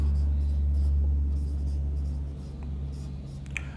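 Chalk or marker scratches across a board during a history lesson, soft intermittent strokes over a low steady hum, with a teacher speaking quietly.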